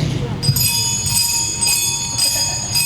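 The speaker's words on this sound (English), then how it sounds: "percussion, can you give us a nice B-flats, couple of B-flats?" Middle school concert band percussion section striking bells in a few sustained B-flat notes at a fall concert, bright ringing tones entering around half a second in and again later, layered over soft audience and room murmur.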